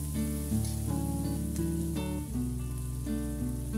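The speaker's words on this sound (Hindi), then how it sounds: "बहुत लाल नहीं करना है, जस्ट सॉटे करना है ये सब मसाले को।" Green chili and onion sauté in a pan while a water spinach and prawn dish is cooked at home. A steady, even sizzle runs throughout beneath a layer of sustained tonal background music.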